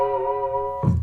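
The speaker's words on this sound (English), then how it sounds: "you just lay it really, really gently" A single guitar harmonic rings out, made by laying a finger gently across the fret wire and strumming, giving a sustained bell-like tone before a brief burst of louder strummed noise at the end.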